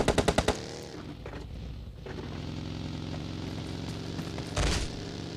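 Gunfire in the mobile game PUBG Mobile Lite, a quick burst of five loud automatic shots, then a steady engine-like drone and a later swell of noise, with no talking.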